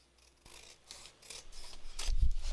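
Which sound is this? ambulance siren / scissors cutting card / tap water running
scissors cutting card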